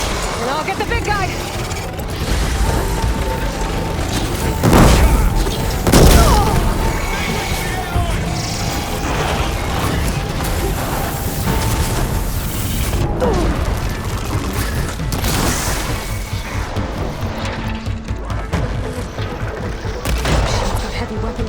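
Robotic machine creatures battling in Horizon Forbidden West, with heavy mechanical clanks, booms, blasts and crashes layered over dense game music and effects, continuous and loud throughout.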